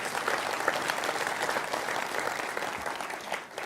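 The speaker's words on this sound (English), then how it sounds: "thank you for that small clap for that" Applause from a conference audience, a dense, even patter of many hands clapping steadily for several seconds before easing off slightly at the end.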